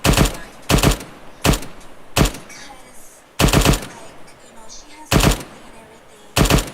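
A machine gun fires during a military training exercise. Short, loud bursts of a few rounds repeat about seven times with brief pauses between them, and faint voices can be heard in the gaps.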